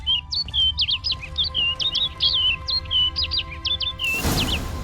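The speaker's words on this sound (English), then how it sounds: "Looks like the bird's leading me somewhere." A bird in The Witcher 3 sings a rapid series of bright, high chirps in quick succession over a low ambient game hum, ending with a brief soft whoosh.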